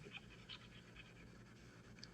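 A dog pants rapidly in a steady rhythmic huff at a dog park, faint and somewhat distant, with a low constant background hum and no voices.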